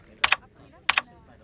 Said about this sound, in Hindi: ये कंप्यूटर तो ऐसे चला रहा है जैसे टाइपराइटर चलाते हैं